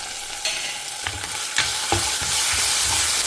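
Ginger garlic paste, curry leaves and green chilies hitting hot oil in a pan, with a few stirring knocks at first, then a steady sizzle that grows louder and fills the pan, close up and without talk.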